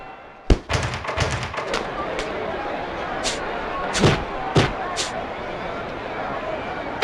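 Punches landing in the boxing video game Knockout Kings 2001, an uppercut then a hook, heard as sharp thuds among several scattered impacts, with crowd noise beneath and a commentator talking.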